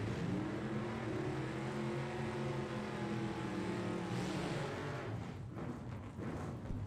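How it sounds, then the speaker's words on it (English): An S10 pickup truck at a drag race, its engine drone heard from a distance with a steady pitched hum that shifts gradually, then fading under outdoor noise toward the end. "S10 pickup truck coming up in the left-hand lane."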